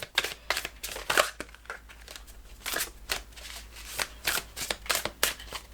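Tarot cards are shuffled and drawn with a run of sharp papery riffles and snaps, some loud and close, in uneven bursts with short pauses between them.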